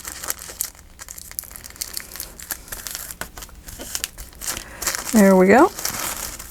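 A glassine bag's bottom is folded up with close, crisp crinkling and crushing paper noises, ending in a louder crackle as a voice speaks briefly.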